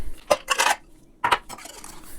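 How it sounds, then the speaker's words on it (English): Ice cubes clatter into a metal cocktail shaker holding a rum cocktail in two quick bursts of sharp clinks. There is a short pause between the bursts, and the sound is close and bright. "Now, add your ice"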